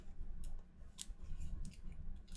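A deck of cards is shuffled for the DC Deck-Building Game, heard as soft, quiet riffling and flicking with a few sharper bursts, close and alone.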